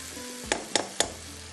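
A metal spoon stirs mutton dahi masala in a cooking pan, giving three sharp, close scrapes and clinks spaced about a quarter second apart over a soft, steady sizzle.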